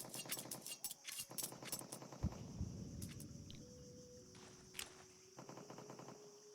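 Gunfire in a Counter-Strike match at an ESL Pro League game, with bursts of rapid shots fired through smoke followed by sparser single shots and faint footsteps, the shooting mostly distant and mixed with game ambience and tonal effects.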